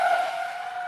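A person vocally imitating the screeching brakes of a horse-drawn cart coming to a sudden halt, a single sustained, strained, tonal screech that holds steady for about a second, loud and close, with no other talk.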